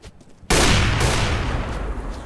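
Gunfire in a first-person shooter game, a sudden loud burst that opens into a sustained, dense roar of shots and echo, close and harsh with no talking.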